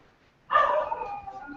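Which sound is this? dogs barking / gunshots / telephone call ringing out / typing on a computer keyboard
dogs barking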